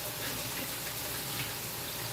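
Hot tap water runs steadily over dirty hands being washed at a kitchen sink, a continuous close rushing splash with no voices.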